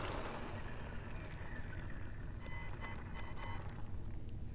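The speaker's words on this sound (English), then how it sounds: "It sounds like it's winding out because that's the stock pinion gear" A Tamiya Super Avante RC car on its stock pinion gear winds out at speed, its motor whine steady with tonal sweeps rising over constant low rumble and road noise.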